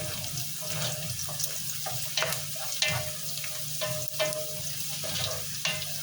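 Garlic frying in a pan, a close steady sizzle with scattered clinks and stirring scrapes, no talk.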